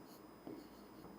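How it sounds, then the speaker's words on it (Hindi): Chalk or marker strokes on a classroom board as a teacher writes during a geography lesson, a brief scratchy burst in the middle of a quiet, close room with no talking. "यहां लिख देता हूं मैं इस स्थान पर"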